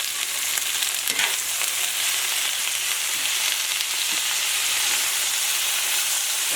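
Cabbage seasoned with adobo cooks down in a hot pan, giving a steady, close frying sizzle with soft hiss and occasional stirring scrapes throughout, no talking.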